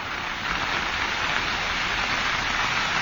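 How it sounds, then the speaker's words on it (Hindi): Steady rain falls in Gurugram, a dense continuous hiss of drops hitting surfaces close by, unbroken and fairly loud with no other sounds standing out. "इसका मतलब अभी भी गुरुग्राम में बारिश हो रही है।"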